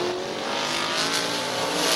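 Race cars circling Midvale Speedway, a loud steady engine drone close by as cars hold speed through the turns, with no speech over it.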